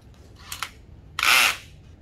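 A cordless power drill spins briefly as it drives a screw into wood, first in a couple of short bursts and then in one louder, longer whir, close by and with no talk.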